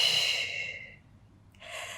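A long audible exhale fading out during a Pilates mat exercise, followed by a short quiet and a breathy inhale, close to the microphone with no talking.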